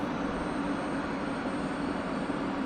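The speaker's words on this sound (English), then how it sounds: "While our engine continues to spool up" F-16C jet engine spooling up after cold start in the DCS flight simulator, a steady, even whine and rush holding at moderate loudness throughout, with no voices.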